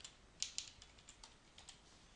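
Faint, quick keystrokes on a QWERTY computer keyboard, a loose run of light clicks with a couple of sharper taps near the start, heard alone and close by.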